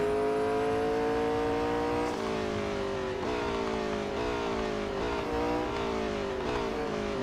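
A race car in Real Racing 3 drives around a track with long straights and tight corners. Its engine whine rises steadily through each gear, drops sharply at every shift and then climbs again, loud and continuous, with no voices.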